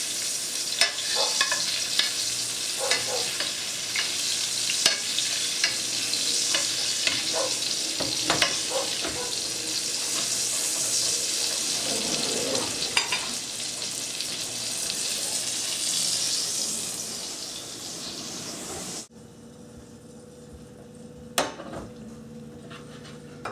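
Chicken roulade wrapped in caul fat sizzles and spatters steadily in a hot pan as it is basted, with scraping and stirring sounds throughout, then the frying cuts off abruptly, leaving a quieter room with a few small clinks.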